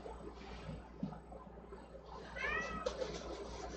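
A fuzzy cat gives a drawn-out meow close by, rising midway, over a steady background hum.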